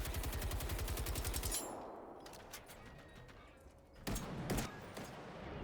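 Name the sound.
handgun gunfire in the video game Generation Zero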